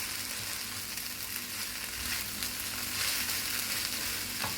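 A colorful trio of vegetables sizzles in a pan, meant to go with pasta: a steady, even crackle and hiss of frying that continues alone at moderate volume without any talking.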